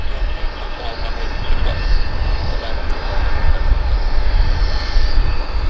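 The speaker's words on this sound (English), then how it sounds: "No reverse thrust on that aircraft." An aircraft landing at Vancouver Airport without reverse thrust makes a steady, loud, broad engine roar that holds evenly throughout with no surge, heard from nearby at the field.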